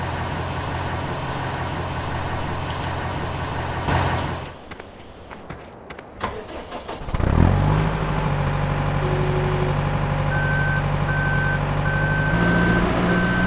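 A truck in Farming Simulator 2013 idles with a steady engine drone, goes briefly quiet, then revs back up as a repeating electronic reversing beep sounds over the engine.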